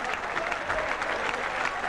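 A cricket crowd keeps up steady, dense applause while celebrating England's Ashes Test victory, a continuous wash of clapping from a large stadium audience.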